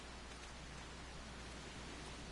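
Steady rain falls in Final Fantasy XIV, a soft, even broadband hiss that holds constant and fairly faint throughout with no other sounds.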